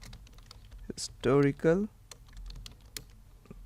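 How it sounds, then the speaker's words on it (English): Someone types on a computer keyboard with quick, light, scattered clicks that sound close. A spoken word cuts in partway through. "I'm going here and typing"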